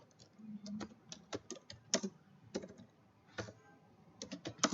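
Quiet, steady typing on a computer keyboard while writing Java code, irregular bursts of key clicks with short pauses between, no voices.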